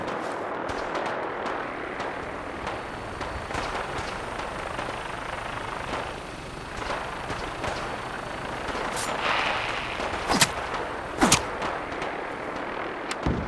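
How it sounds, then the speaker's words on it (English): Gunfire in Fallout 4 during a Brotherhood of Steel assault, heard as scattered sharp shots over a constant roar of engines and combat noise, with a few louder cracks near the end. "We go in shooting"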